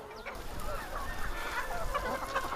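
Chickens cluck and squawk in a busy group on a farm that raises live feed for its birds, with calls overlapping throughout at close range and no talk.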